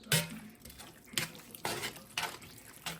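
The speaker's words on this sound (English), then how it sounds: "Just going to stir this up with my tongs" Metal tongs stir canned cream of mushroom soup in a pot, giving a few wet, sloshing scrapes at irregular intervals with quiet gaps between.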